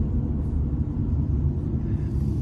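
Steady low road rumble and engine drone from inside a moving car, constant and fairly loud with no voices.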